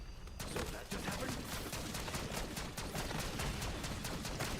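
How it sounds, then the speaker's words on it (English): Rapid bursts of shotgun fire loaded with Dragon's Breath rounds in Black Ops 6 Zombies, dense repeated blasts over a steady wash of game noise, with a voice talking faintly underneath. "This shotgun's so cool."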